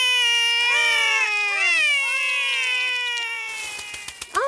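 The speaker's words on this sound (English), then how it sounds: "The kittens are Holly and Fleur." Cartoon kittens from Ben and Holly's Little Kingdom mew in high, wavering, sliding cries, several overlapping calls close and clear, with no talking.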